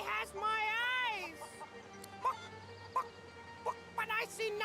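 A rooster character in the video game Divinity: Original Sin 2 gives warbling, clucking calls that rise and fall, followed by short clucks mixed in with a spoken voice, fairly close and moderately loud.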